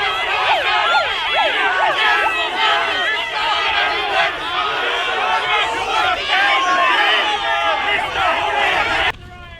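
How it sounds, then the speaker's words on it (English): Loud crowd of protesters gathered outside a Fraser Anning meeting in Melbourne, a dense roar of shouting and chanting voices with yells rising over the babble, continuous and close before cutting off abruptly near the end. "there are already people protesting"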